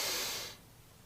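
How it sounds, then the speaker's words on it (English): A single audible in-breath during a guided meditation, a soft airy hiss that fades out after about half a second into quiet room tone. "I am breathing in."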